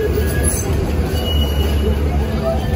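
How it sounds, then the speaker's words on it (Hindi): A Manchester tram rolling past at a stop, a loud steady rumble of wheels on rails with faint squeal, close by and continuous with no talk. "जैसा कि मैंने आपको ये ट्राम दिखाई है"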